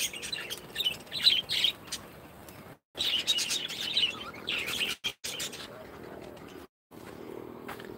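Over forty birds in a home aviary chirp and tweet in bright, busy bursts, fairly close, with gaps of near silence and a voice speaking at times.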